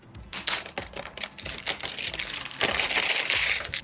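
Cellophane wrap on a playing card box being peeled open, with sharp crinkling crackles and snaps that start in quick separate bursts and then run together into a dense, close rustle.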